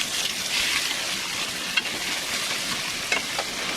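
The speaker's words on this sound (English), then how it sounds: "I'm frying my quesadillas here, whatever you want to call them" Quesadillas frying in a pan, an even, close sizzle and crackle of hot oil with a couple of small clicks or taps, no voice heard.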